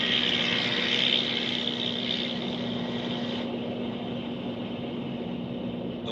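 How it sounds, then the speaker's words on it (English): Swordfish torpedo bombers lift off an aircraft carrier with a steady, droning propeller engine roar that holds loud and continuous throughout, easing slightly partway through, with no voices. "21 Swordfish torpedo bombers lifted off an aircraft carrier"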